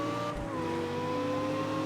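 A 750HP Lexus LFA in CarX Street screams at high revs during a rear-wheel-drive launch, holding a loud, steady engine wail with rising harmonic tones and no talk over it.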